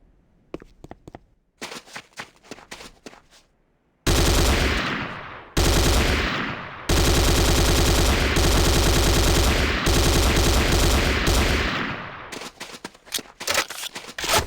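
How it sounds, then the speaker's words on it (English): Corbretti AR-70 Raptor automatic rifle from Command & Conquer: Renegade firing loud sustained automatic bursts up close, preceded by a few scattered single shots, with brief gaps between long volleys and no talking. "The next weapon is the Corbretti AR-70 Raptor automatic rifle"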